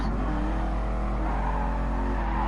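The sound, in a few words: Ford race car engine revving in the video game GT Sport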